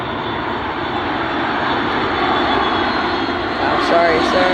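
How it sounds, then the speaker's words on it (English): A Boeing C-40 Clipper jet takes off at Dulles airport, a loud, steady roar of jet engines that holds strong and broadens for the whole stretch, close and dominant with no other sounds over it. "C-40 Clipper took off."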